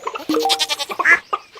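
Goats bleating in the farming game Stardew Valley, a few quick nasal calls in a row, loud and close, with no talk over them.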